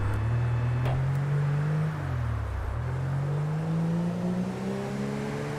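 A police car driving main roads in GTA 5 holds a steady engine drone that dips and climbs as it shifts and revs, continuous and close with no talk.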